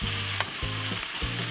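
Corned beef sizzles steadily as it is broken up and stirred in a hot frying pan, with a few soft scraping strokes of a utensil over the constant frying hiss.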